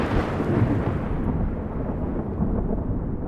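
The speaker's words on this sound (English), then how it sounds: "The thunder that these bolts generated was audible 15 miles away." Deep, continuous rumbling thunder like that from the huge lightning bolts of Tesla's tower, loud and sustained with no distinct claps, heard alone.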